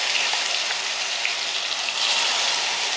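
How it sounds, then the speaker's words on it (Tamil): Ground shallot paste sautéing in hot oil with cardamom pods, cinnamon stick, cloves and curry leaves, a steady close crackling sizzle with no talk. "வெங்காயம் வந்து நல்லா வதக்கிக்கலாம்"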